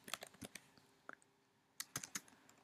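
Keys clatter on a computer keyboard in quick bursts of close, crisp clicks, with a short pause mid-way before another flurry of taps; no one speaks.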